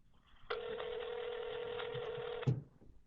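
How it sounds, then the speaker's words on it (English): A telephone rings once, a steady electronic tone lasting about two seconds and then cutting off sharply, heard alone with no talk. "My phone was ringing because that other number was ringing me too"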